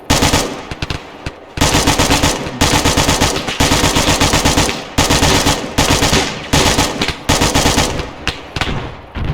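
Loud, close automatic gunfire from an enemy soldier in the video game Resurgent Honour, sounding as rapid sustained bursts broken by brief pauses.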